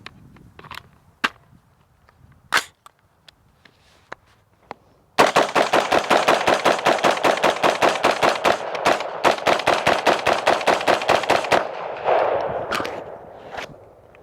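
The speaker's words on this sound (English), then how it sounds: "So there we have flawless functioning from the Ruger SR-556 auto-loading rifle" Ruger SR-556 auto-loading rifle firing a full 30-round magazine, a few scattered sharp shots first, then a rapid unbroken string of loud cracks for about six seconds, ending in a fading echo and a couple of stray knocks.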